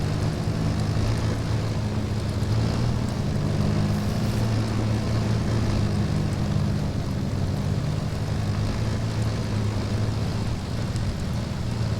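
Engine of a BMP tracked vehicle in a video game, straining up a forest hill in bad weather, a loud continuous drone with a steady low rumble and no speech.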